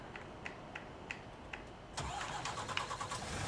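A truck engine cranks over with soft starter clicks, then catches and settles into a steady idle in Farming Simulator 19 on the Fenton Forest map; no one speaks.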